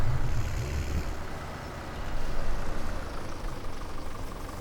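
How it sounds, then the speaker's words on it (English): A tractor fitted with a jet engine in Farming Simulator 17 gives a steady, loud low rumble with a broad roaring hiss that swells slightly midway and holds throughout, with no talking. "it's a tractor with a jet engine"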